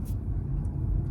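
Car driving down the road loaded full of groceries: a steady, close low road rumble and engine drone throughout, with no talking.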